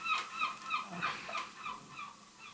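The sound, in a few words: seagull calling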